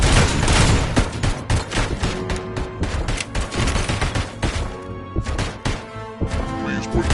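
Rapid automatic gunfire from the ED-209 robot in the video game RoboCop Rogue City, a loud, dense run of repeated shots and impacts sustained throughout, with voices in the background.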